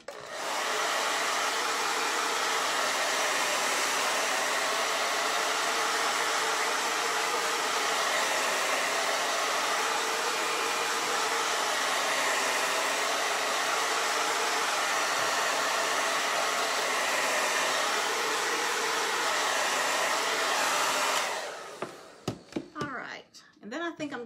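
A hair dryer blows steadily and loudly on wet paint on a boho-style "Live Simply" craft sign, a continuous whooshing roar lasting about twenty seconds before it cuts off, followed by a few faint clicks and handling noises.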